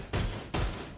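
Two heavy, booming assault rifle shots in the shooter game Deadzone Rogue, each with a long rumbling tail, loud and close with no talking over them.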